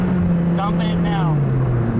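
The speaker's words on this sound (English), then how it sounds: "Full throttle clutch dump." A Mazda Miata engine under a full-throttle clutch dump with a slipping clutch gives a steady, loud drone whose pitch sags slowly as the revs fall, while a voice talks over it partway through.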